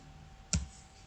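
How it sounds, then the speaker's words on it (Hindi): A single crisp mouse click on a spreadsheet cell, short and close over faint steady background hiss. "यहाँ पर मैं इस पर क्लिक करूँगा"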